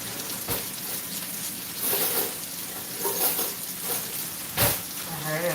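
Pancakes fry in a pan at breakfast time, giving a steady close sizzle with occasional louder crackles and scraping as they cook.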